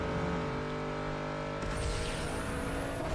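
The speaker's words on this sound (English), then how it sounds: "I might as well use the nitrous now." A car in the Need for Speed: Underground 2 racing game fires its nitrous boost, a loud, constant engine roar joined midway by a sharp rising whoosh that carries on to the end.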